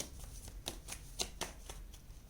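Tarot cards shuffled and drawn during a relationship reading, a series of soft, quick riffling snaps and slaps spaced irregularly, close and quiet with no talk.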